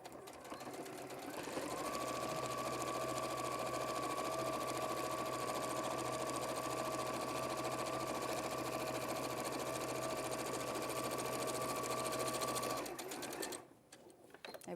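A sewing machine runs steadily for about eleven seconds, stitching pleated pocket pieces in a continuous loud hum that stops abruptly near the end.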